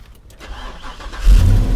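A gasoline truck engine running during a pre-trip check, a low steady rumble that swells louder partway through and keeps going, heard up close with no talking.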